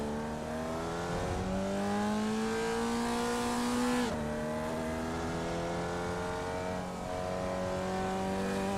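A race car in the iRacing sim speeds out of the pits, its engine a loud, steady drone climbing in pitch, dropping sharply at one gear change before winding up again, with no voices over it.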